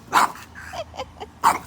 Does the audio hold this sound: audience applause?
no